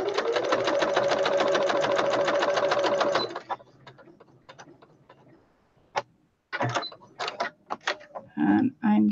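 A sewing machine stitches fabric for a pillow patchwork in a fast, even mechanical whir of rapid ticks for about three seconds, then stops. Short clicks, handling noises and brief talk follow.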